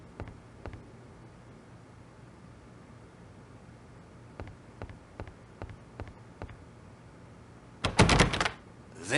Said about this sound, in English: The door.